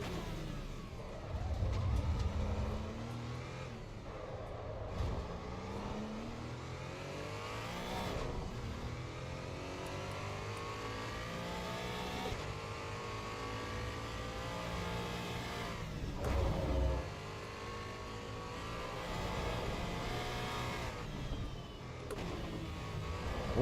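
A race car engine on a qualifying lap in the racing game Assetto Corsa EVO on the Nordschleife, revving up repeatedly through gear changes with rising whines and brief dips, sustained and fairly steady.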